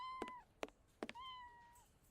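Bert, a cat in a video game, gives a string of clear meows, three or four drawn-out, rising-and-falling cries with short gaps between them.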